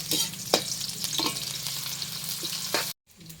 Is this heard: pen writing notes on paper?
no